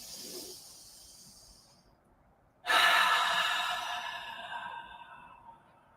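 A yoga breath drawn in through the nose and released out through the mouth: a faint nasal inhale fades out, a short silence follows, then a loud, close, airy exhale gradually trails off.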